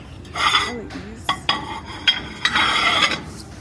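Cutlery and metal utensils handled on a store shelf, a series of light clinks and rattles in short bursts, fairly close and moderately quiet.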